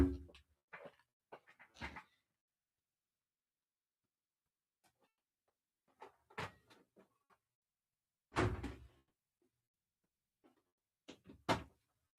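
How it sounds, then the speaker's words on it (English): An office door swings shut in a quiet room, with scattered handling knocks and thuds, then two firmer broadband bangs of the door meeting its frame, fairly close and separated by silence. "Let me close my office door"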